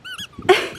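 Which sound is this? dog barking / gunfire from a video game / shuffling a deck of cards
dog barking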